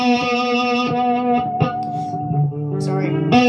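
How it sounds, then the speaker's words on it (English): Electric guitar with effects and distortion sounding a pinch harmonic on the open B string: sustained bright harmonic-rich notes with a few re-attacks, reverberant and alone, no talking. "make it a pinch harmonic just by tapping it lightly."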